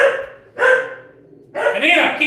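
A pet dog barks in a home kitchen during a live cooking session, two or three short bursts of loud, close barking separated by a pause, with voices talking nearby.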